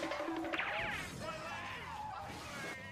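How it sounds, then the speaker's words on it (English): Cartoonish spaceship crash sound effect in a Sonic fan video, a sweeping whoosh and smash with descending tones that fade over a few seconds, loud and close with no speech. "I had to include the spaceship crashing in the video"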